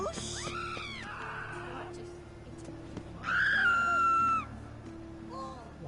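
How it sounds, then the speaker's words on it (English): Several characters scream in The Witcher 3: shrill, wavering cries open the clip, a louder sustained scream swells near the middle, and a shorter cry follows, all over a low in-game ambient hum. "Why is everybody screaming?"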